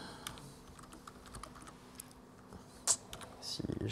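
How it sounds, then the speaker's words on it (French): Keyboard typing during a Node.js async/await programming session, a scatter of soft, irregular key clicks at close range with a louder burst of rapid keystrokes near the end. "si j'arrive à taper au clavier."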